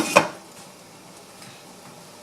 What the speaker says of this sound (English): Put the lid back on